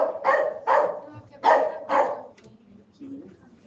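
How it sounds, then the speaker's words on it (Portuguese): Dog barks four times in two pairs of loud, close woofs, followed by softer yips or whimpers and faint background sounds in a quiet indoor space. "A única zoeira que tem aqui é de cachorro"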